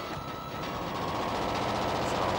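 A train rumbles by in the Gunstar Heroes video game, a steady, loud mechanical roar with a faint tonal hum that holds evenly throughout.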